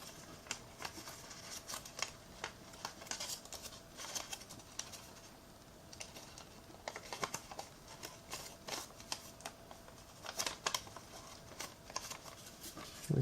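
A sheet of paper is folded and creased by hand while making an origami heart bookmark: quiet, close rustles, crinkles and sharp little taps come in irregular bursts over a soft background, with no talking.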